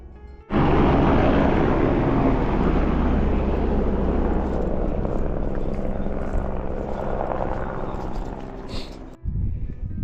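Helicopter lifting off from the Everest View Hotel helipad in the Himalayas, a loud, close, steady rotor and engine roar that starts abruptly and holds for about nine seconds before cutting out, with no voices.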